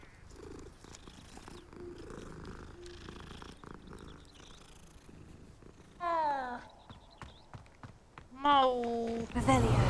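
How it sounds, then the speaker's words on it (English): A cat purrs in Hogwarts Legacy, a low rumbling purr beneath game sounds, with louder meowing cries near the end. "Kitty!"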